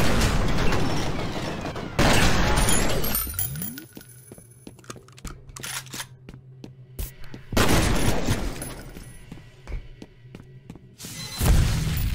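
Shotgun blasts in the video game F.E.A.R. come as several loud, heavy bursts spaced a few seconds apart, with quieter clicks, clatter and mechanical game sounds in between.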